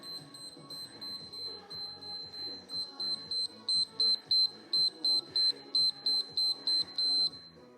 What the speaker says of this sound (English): I need to reset my timer